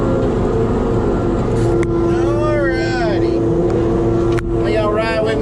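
Steady engine drone of a rubber-tired logging machine, freshly repaired and running while cutting a road for a timber tract, holding a constant pitch, with a voice speaking over it.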